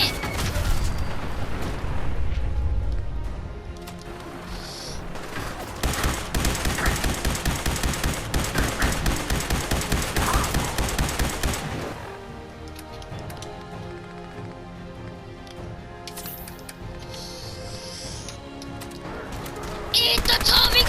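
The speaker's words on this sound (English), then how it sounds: "Eat the Tommy gun!" Tommy gun fire in the video game Fallout 4, with long rapid bursts of automatic shots rattling for several seconds, a pause, then more shots and impacts, under excited shouting from a player.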